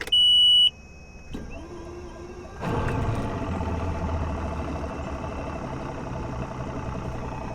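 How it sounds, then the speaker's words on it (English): An outboard boat motor cranks after a brief electronic beep, then catches and settles into a steady, rumbling idle that continues for several seconds, loud and close with no voices. "Let's see what happens when we start the motor."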